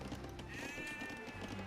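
A sheep bleats in an Age of Empires 2 match, a wavering cry over a dense bed of game sounds and background noise, fairly faint in the mix.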